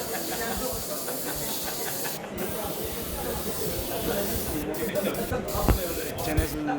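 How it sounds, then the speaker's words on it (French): An airbrush sprays base-coat paint in a continuous steady hiss, with short breaks where the air cuts off and resumes, and faint background talk around it. "mi técnica de pintura con aerógrafo es intentar con el color base"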